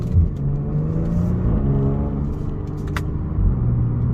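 A 2022 Genesis G70 Launch Edition accelerates through a turn, its steady engine rumble and whir rising and dipping as the automatic transmission shifts, with a brief click near the end.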